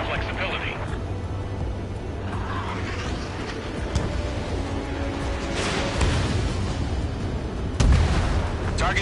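Anti-air gunfire and explosions in the jet combat game Ace Combat at an enemy base: dense, rumbling battle noise with scattered bursts and booms, and one heavier blast near the end, with radio chatter over it.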